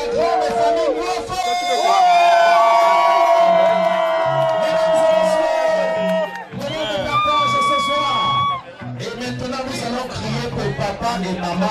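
Crowd at a baptism and first communion celebration cheering, whooping and shouting loudly, with sustained voices rising and briefly dropping before a second burst of cheers, while music or singing carries underneath.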